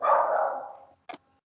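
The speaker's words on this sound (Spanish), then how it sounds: "está ladrando mi perro" A pet dog barks nearby during an online class, one drawn-out bark followed by a short, sharp second bark, then silence.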